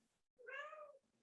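A house cat gives one short, clear meow, fairly faint and close, set against quiet room background.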